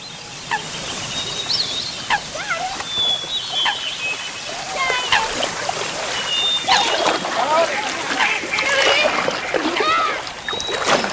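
Kayaks move down the River Dee in North Wales with repeated paddle splashes and water sloshing close by, while birds call and voices chatter intermittently throughout.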